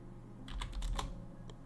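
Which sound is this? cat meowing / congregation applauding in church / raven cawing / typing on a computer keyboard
typing on a computer keyboard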